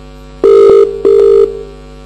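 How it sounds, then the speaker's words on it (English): A mobile phone ringing unsilenced in a conference audience during a communications server demo, two loud tonal rings with a pause between, no talk. "we can hear his mobile phone ringing, which he forgot to put on silent"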